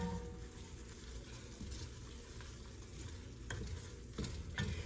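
A spoon stirs seasoning through food in a cooking pot, soft scraping strokes over a low sizzle, with a couple of sharper clinks near the end and no talking.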